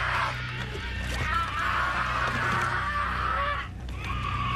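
A man screams in the Japanese horror film Noroi, a sustained strained cry held for several seconds over a dense, noisy background before briefly breaking off.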